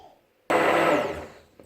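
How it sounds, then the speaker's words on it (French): An immersion hand blender whirs loudly into potato soup seasoned with nutmeg, starting abruptly after a quiet moment and running steadily for about a second before tapering off. "je mixe le tout avec le mixeur bras"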